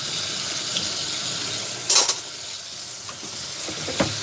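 Water runs from a kitchen sink tap in a steady hiss, punctuated by a few brief clinks and splashes of dishes being handled.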